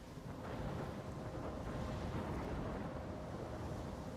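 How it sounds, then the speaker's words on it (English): A thunderstorm in the video game Life is Strange rumbles as a dense, steady roar of rain and wind, with low thunder swelling underneath throughout. "I'm trapped in a storm."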